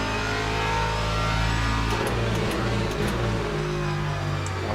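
Racing video game with GT3 race cars, a V8 and a Lamborghini V12 among them, engines droning and revving steadily at mid pitch, several cars layered together, with no talk.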